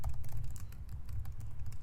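Close keyboard typing, a steady stream of soft, rapid key clicks over a low hum, no one talking.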